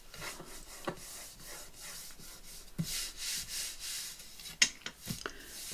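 Dried glue is rubbed off a shabby vintage journal cover with irregular scraping and rubbing strokes that grow louder partway through, close and alone without speech.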